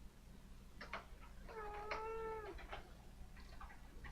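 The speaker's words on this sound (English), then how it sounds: "Cat, what do you want?" A pet cat meows once in a drawn-out, wavering cry, close and clear above a low steady hum, with a couple of shorter soft chirps before and after.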